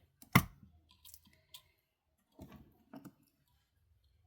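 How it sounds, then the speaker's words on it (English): A double flush cutter snips jewelry wire with one sharp, crisp click up close, followed by a few softer clicks and light handling taps in a quiet room. "we'll snip it off right where I need it"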